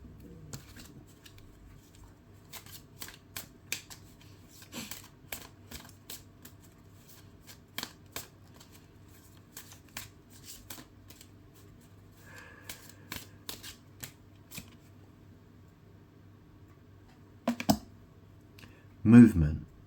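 Playing cards handled and shuffled, with scattered soft snaps and riffling clicks over quiet room hum and a brief louder shuffle near the end, while a person speaks.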